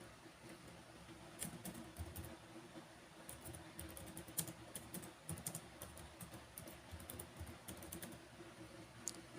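A computer keyboard being typed on to enter a file name, with a steady, quiet patter of key clicks in irregular bursts for several seconds and no talking.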